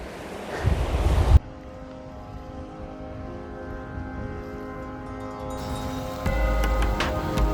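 The Supin river, fed by glacier meltwater in the Har Ki Doon valley of Uttarakhand, rushing with a continuous broadband roar, with louder gusty bursts at the start and end.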